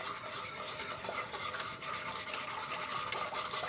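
A spoon stirs apple cranberry pie filling in a pot, a continuous scraping, rubbing swish at close range with no voices.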